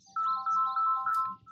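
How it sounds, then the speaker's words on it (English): A phone ringtone for an incoming call plays a repeating electronic melody in four quick bursts, clear and close with no talking. "And I gotta get this phone call"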